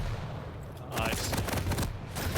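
Lightning guns in Quake firing in a duel, a steady buzzing crackle of continuous beams with a few sharper shot bursts, loud and close throughout.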